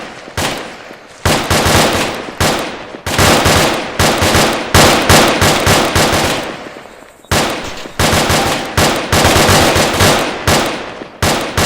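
Rifles from team Alpha crack in loud, close, rapid strings of shots during a field drill, each burst echoing, with one brief pause before the firing resumes.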